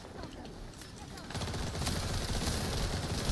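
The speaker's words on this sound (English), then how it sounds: "This is definitely VS's frost bullets." Rapid gunfire from frost bullets in The First Descendant, a dense stream of shots that grows louder and fuller partway through, with a voice talking over it.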